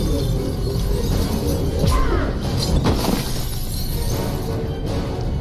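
Glass shattering in Mass Effect 2, a dense crashing burst with scattered shards over a noisy, rumbling game backdrop, loud and close with a couple of sharper breaks.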